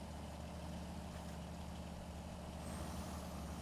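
A Kenworth truck in the Snowrunner video game revs its engine steadily as the wheels spin out, a dense, continuous low rumble at close range that swells slightly toward the end.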